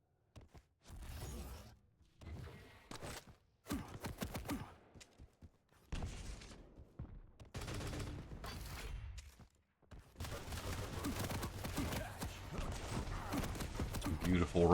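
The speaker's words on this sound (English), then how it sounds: "Beautiful rockets there." Rocket launcher fire in the Quake Champions arena shooter during a competitive cup match, explosive bursts and blasts coming in repeated clusters with gaps between, loud and close, mixed with other weapon noise and game sounds.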